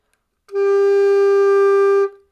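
Recorder sounding a single held G note with all holes covered, including the back one, a clear, steady tone lasting about a second and a half, alone and close.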